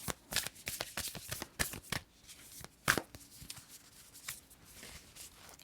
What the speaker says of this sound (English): we're going to pull one final card from the Universe Has Your Back